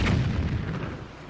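A single deep cannon blast booms in The Wind Waker HD, a loud low thud that rolls off and fades over about a second, with no voices.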